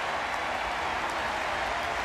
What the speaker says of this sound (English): The crowd is cheering.